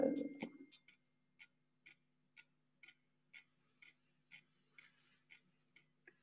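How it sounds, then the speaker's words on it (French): A regulated clock pendulum ticks in an even rhythm, about a dozen faint, crisp ticks spaced roughly half a second apart, following a brief louder knock at the start. "Et voici le balancier réglé."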